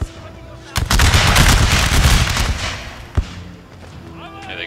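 Heavy video-game battle fire booms out, one sharp blast followed by a sustained roar of gunfire and artillery, then a second crack as it fades, with voices heard faintly in the mix.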